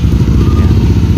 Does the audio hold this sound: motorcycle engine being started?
yes